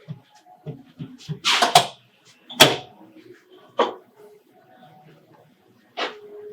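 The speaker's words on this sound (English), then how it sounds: "But wait, I think there's someone at the door." Someone knocking at a door, a few irregular sharp raps spread apart, with short gaps of quiet between them.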